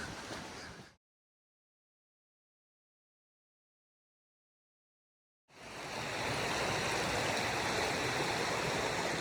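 A stream flows beside a camp spot on the Pinhoti Trail, a steady broadband rush of water heard close and loud. It stops abruptly for several seconds, then resumes stronger and continues without voices.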